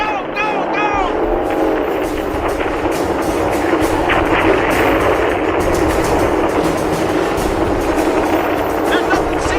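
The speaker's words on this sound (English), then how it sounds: "All the gunnery positions have opened fire!" Gunnery positions opening fire in an old-time sci-fi radio drama, continuous dense battle noise with rapid bursts and rumble throughout, loud and close, with shouting voices heard at the start.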